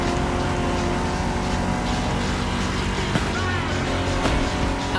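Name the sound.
vintage car driving in the video game The Crew Motorfest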